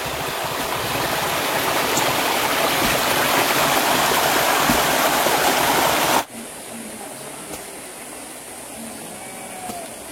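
Abundant river water rushes loudly past a mountain-slope village, a dense continuous roar that cuts off abruptly partway through, leaving quieter outdoor ambience.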